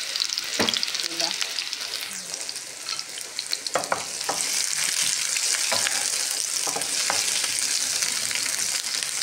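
Garlic frying until burnt in a pan, a continuous close sizzle broken by sharp spatula scrapes and clatters, growing denser in the second half, with no one speaking.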